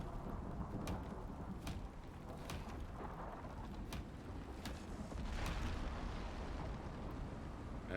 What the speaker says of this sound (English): I hate how mean the new storms are